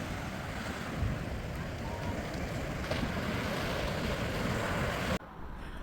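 Ocean waves wash onto a Sicilian beach in a continuous, fairly loud roar of surf with wind buffeting the microphone, ending in a sudden brief drop before the wash resumes.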